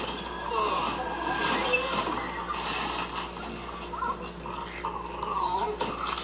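A dog in a Witcher episode growls and whimpers in uneven bursts over a dense scene soundtrack, with voices faintly present in the mix.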